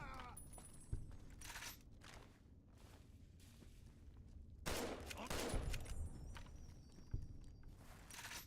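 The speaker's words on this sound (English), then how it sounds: "I shot the pipe out of his hand before I killed him" Scattered gunshots in Fallout's Tale of Two Wastelands ring out over a quiet ambient background, with several sharp, loud reports spaced apart and a denser burst in the middle.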